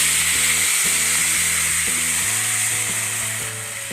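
Milk poured into roasted vermicelli in a hot pan for sheer khurma sets off a loud, bright sizzle, with stirring and clinking sounds stepping through beneath the constant hiss.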